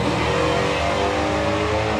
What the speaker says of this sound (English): Nicely controlled wheelie, didn't lift off the gas this time.